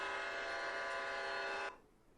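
A locomotive from the video game Train of Thought sounds a loud, steady, tonal horn-like blast that holds evenly and then cuts off abruptly, leaving quiet room noise.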